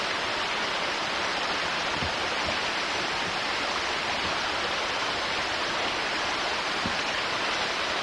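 Steady broadband rush of water flowing through a gold sluice box beside Beaver Creek, continuous and fairly close, with no voices over it.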